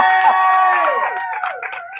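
A lively audience at a poetry concert cheers and whoops loudly, with many overlapping voices sustained throughout and no clear clapping standing out.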